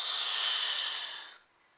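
A long, steady, breathy exhale through the mouth during a pilates exercise, close and soft, fading out after about a second and a half.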